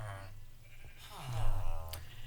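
Minecraft sheep bleating at a player-built sheep house on a Realms world, two or three wavering bleats, the last one louder, over a faint steady game hum.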